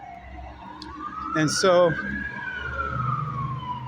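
A siren rises and sweeps steadily across the whole stretch, fairly prominent, with a voice speaking briefly over it near the middle.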